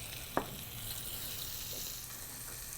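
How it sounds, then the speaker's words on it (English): A pat of butter sizzles in a preheated hot pan, a steady faint crackling hiss with one sharp tick near the start, no voices. "into the nice hot pan, previously heated, a pat of butter."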